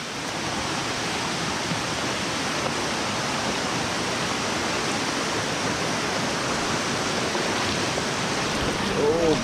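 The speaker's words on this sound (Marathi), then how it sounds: "आजच्या ट्रेकची पहिली रिव्हर क्रॉसिंग आपल्या समोर" Loud, steady rush of river water at a trekking river crossing near Devkund waterfall, a dense broadband roar filling the whole stretch without a break.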